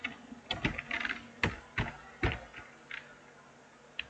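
Fingers type on a computer keyboard while code is written into a Databricks PySpark notebook. The keys land in short, irregular bursts of close clicks, with brief pauses between them.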